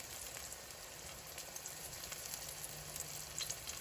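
Sliced green tomatoes fry in a pan, giving a soft, continuous crackling sizzle with small pops, fairly quiet and steady, with no voices.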